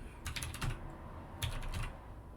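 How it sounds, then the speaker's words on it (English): Typing on a computer keyboard, two quick bursts of rapid key clicks separated by a short pause, close and fairly quiet with no talking. "I guess you all can't see what I'm typing"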